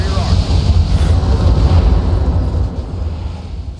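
Heavy mech weapons fire in the BattleTech video game, rear-arc volley producing a loud, continuous low rumbling barrage of booms and blasts, sustained and dense throughout, tapering slightly near the end.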